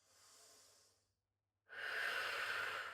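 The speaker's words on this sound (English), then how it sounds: "just 2 deep breaths" Two deep breaths taken head down with arms stretched out in a Pilates back stretch: a soft, breathy inhale, a brief silent pause, then a louder, rushing exhale close to the mic, with no talking.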